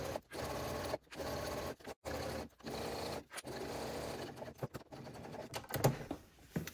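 A sewing machine with a walking foot stitches a tote strap in fast rhythmic bursts, several runs broken by short pauses, close and clear with a slight rattle as it starts and stops.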